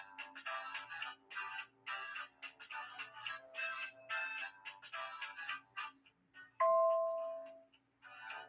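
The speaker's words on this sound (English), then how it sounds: "That was a fun sound. Must be a Facebook notification." A Facebook notification chime rings out once, loud and bright, after a stretch of rhythmic rustling and scraping sounds near a sewing workbench.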